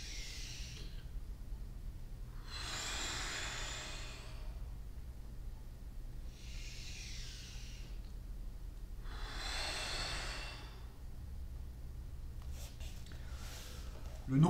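Slow breaths drawn in and let out during a martial-arts cross-training breathing exercise, four soft breathy swells spaced a few seconds apart over a low steady hum, no talking.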